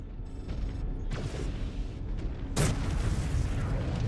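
Heavy artillery bombardment in the MechWarrior 5 Clans mech combat game, a dense continuous low rumble of explosions with a sharp loud burst about two-thirds through, no talk.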